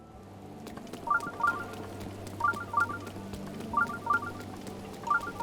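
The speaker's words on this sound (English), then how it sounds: "let's deal with this shrine problem so it won't be making sounds to us every 5 seconds" A shrine in Zelda: Breath of the Wild gives off a repeating chime, short bright tone pairs returning every second or so over a low ambient hum.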